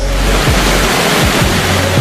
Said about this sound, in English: Victoria Falls is Africa's version of Niagara Falls